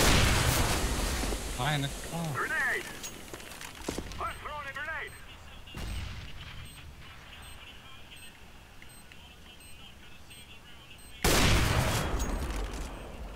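Gunfire in a competitive first-person shooter match on the Cache map at A-site: bursts of shots and loud cracks near and far, with players talking in Danish over parts of it and a loud burst near the end.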